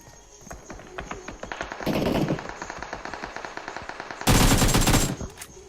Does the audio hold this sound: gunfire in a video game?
yes